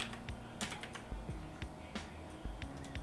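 Keys pressed on a computer keyboard while modeling in Blender: a quick, irregular run of sharp, close clicks, some bunched together, over a faint background hum.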